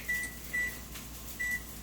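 A kitchen oven beeps three times as it is switched off, short clear electronic tones spaced unevenly over a quiet background hum.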